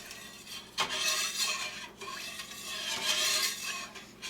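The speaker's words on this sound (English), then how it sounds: "mix that around a little bit" A spoon stirs a few drops of liquid into a container of milk while making cream cheese, giving close, continuous scraping and swishing in two strong sweeps with a brief clink between them.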